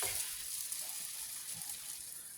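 Egg-coated bread for French toast frying on a warm griddle, giving a steady, fairly quiet sizzle with a soft hiss that holds evenly throughout, without any talking.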